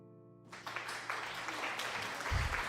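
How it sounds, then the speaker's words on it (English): Applause from a gaming stream giveaway, heard as a short burst of dense clapping that starts suddenly and stays fairly steady at moderate volume. "Thanks, applause, applause."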